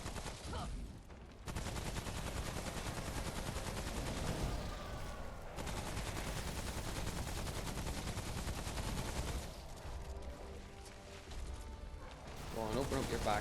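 The rot bombardment attack from the video game Remnant: From the Ashes, a boss fight, lands as a dense, sustained barrage of rapid gunfire-like blasts and mechanical clatter. It runs loud and continuous with a few brief lulls.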